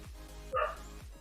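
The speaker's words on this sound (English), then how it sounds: "the dogs barking outside does make me feel like he is here" A dog barks once outside, a short muffled bow-wow heard over a low steady hum.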